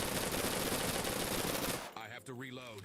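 Rapid, sustained submachine gun fire from Persist Online rattles loudly and densely for nearly two seconds, then cuts off abruptly and a voice speaks over quieter game sounds.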